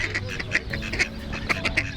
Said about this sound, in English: Sorry, I'm getting distracted by this duck hassle going on.